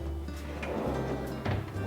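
A large drawer in a custom-built wardrobe slides along its runners and eases shut with a soft-close damper, a short, close, muffled rolling sound with a gentle thud at the end.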